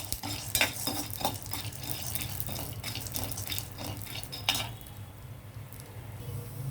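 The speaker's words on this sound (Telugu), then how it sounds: "మళ్ళీ కొద్దిగా నెయ్యి వేసి ఇవి వేపుతానండి. గుమ్మడి గింజలు, పంప్కిన్ సీడ్స్, ఇవి కూడా అలాగే దోరగా వేపాలన్నమాట." Pumpkin seeds fry in ghee in a pan while a spoon stirs them, with a steady soft sizzle broken by irregular scraping and clinking strokes.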